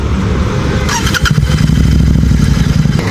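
A Royal Enfield GT 650 motorcycle cranks and fires up, the starter whirring briefly before the twin engine catches and settles into a loud, close, steady idle.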